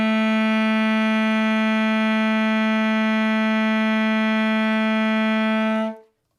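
A steady sustained saxophone note B, rich in harmonics, holds for about six seconds at even loudness before stopping abruptly, played solo with no talking.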